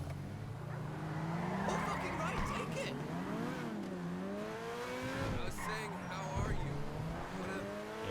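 A stolen car in Grand Theft Auto 5 drives off with a steady engine drone that rises and falls as it revs and shifts, mixed with tire noise and game sounds.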